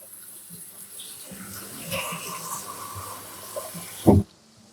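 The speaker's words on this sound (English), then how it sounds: "Washing my hands again." Hands are washed under a running kitchen tap, a soft, steady splash of water with small shifts as the hands move, ending in a brief louder clatter before sudden quiet.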